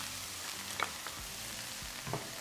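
Chorizo sizzles steadily in a hot pan as roasted, peeled, chopped hatch peppers go in, with a few light clinks of stirring over a constant frying hiss and no voices.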